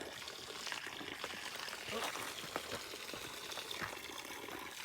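Spring water runs steadily into a cooking pot at a trailside spring near Rainbow Lake, a continuous close trickling pour that lasts throughout.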